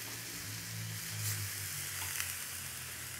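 Egg sandwiches sizzling and frying steadily in a pan on a grill, a soft continuous crackle with low hum beneath, alone and fairly close.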